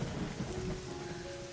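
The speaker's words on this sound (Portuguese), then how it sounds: "Havia chuvas e tempestades constantes na região do castelo, e as trovoadas e os relâmpagos à noite assustavam Clara profundamente." Rain falls steadily on a surface under a low rumble of thunder, a short, dense, even wash of sound heard alone, without voices.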